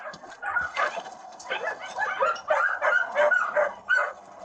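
Several German mastiffs and puppies barking and yelping in repeated overlapping bursts, fairly close and loud, with whimpering mixed in among the cages.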